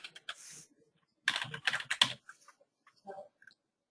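Someone types an email address on a computer keyboard, producing bursts of quick, close plastic key clicks separated by short pauses, with a final few scattered taps.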